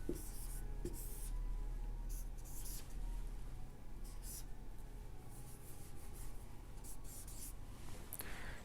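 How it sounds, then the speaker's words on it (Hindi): A marker or chalk scratches steadily across a board while a series of letters is written out, continuous faint scraping strokes over a constant background hiss, with no talking. "सीरीज को एक बार फिर से लिख ले रहे हैं"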